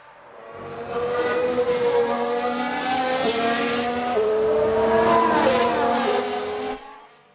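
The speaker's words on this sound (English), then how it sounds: "It's a crash." Race cars scream past in F1 Manager 22 during a crash, with squealing tires and engines whining over several seconds, loud and close, before the noise cuts off abruptly.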